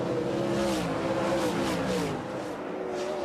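World of Outlaws sprint cars race at Bristol, a loud, continuous roar of several engines at full throttle under a commentator's voice, with pitch rising and swelling as cars sweep past.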